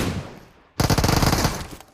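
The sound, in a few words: gunfire in a video game (PUBG Mobile, Livik map)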